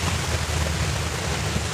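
Ocean surf roars continuously in a radio station jingle, a broad steady wash of crashing waves with a low rumble and no voices over it.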